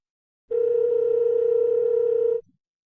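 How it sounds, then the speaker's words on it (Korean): A telephone dial tone sounding while placing a call, a single steady tone lasting about two seconds, clear and close, then cutting off into silence. "아들 민혁이에게 전화를 걸었습니다."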